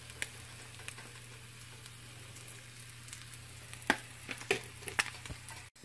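Food sizzles steadily in a pan after being flipped, a quiet continuous frying hiss broken by a few sharp crackles and light scraping clicks toward the end.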